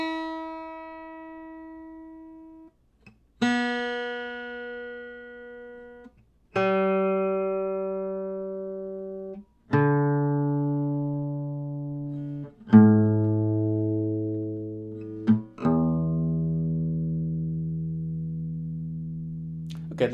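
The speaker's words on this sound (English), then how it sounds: "I have been using 432 Hz tuning from high E string to low E string." Guitar strings tuned to A=432 Hz are plucked one at a time from high E down to low E, six separate ringing notes, each left to sustain and fade before the next, deepening in pitch, with no voice.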